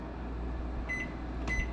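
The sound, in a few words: microwave oven running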